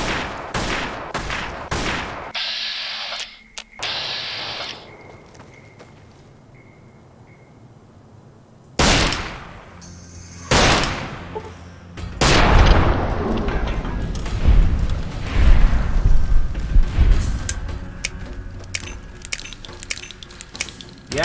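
Gunfire in Fallout New Vegas: scattered sharp shots and bursts crack out, some isolated and some in rapid clusters, loud and near, mixed with metallic clinks and game ambience.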